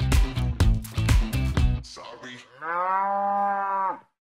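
Cow on an Indonesian dairy farm lowing in a long, loud moo close to the microphone, following a burst of other rhythmic sound.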